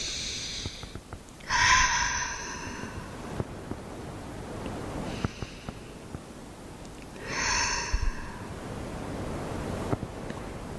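Two long, audible exhales through the mouth during a yin yoga session, spaced several seconds apart over a steady, soft rushing background.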